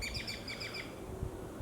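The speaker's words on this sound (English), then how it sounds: "the birds are out" Birds chirp and tweet in a backyard during a yard sale, rapid repeated high calls through the first second, then fading under low rumbling outdoor background noise.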